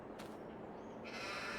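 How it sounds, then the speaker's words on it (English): A sheep bleats once in Farming Simulator 22, a short, fairly faint call over low steady background ambience. "Little sheep lying down like that."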